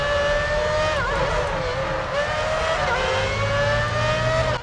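Screaming high-revving Formula 1 engines from the F1 2006 game race in close company, pitch rising and dipping through gear changes while rival cars whine alongside, loud and continuous with a low rumble underneath.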